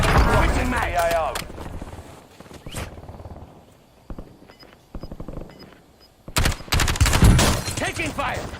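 Video game gunfire in a battle-royale match: repeated sharp shots and rapid bursts ring out, loud and close, with brief quiet gaps between volleys and voices talking in between.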